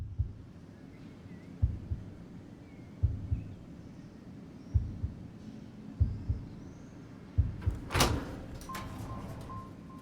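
A door opening in the video game Harmony: The Fall of Reverie, a sudden bright swish and clatter that rises over a slow, soft pulsing thump like a heartbeat, with a faint hum lingering after.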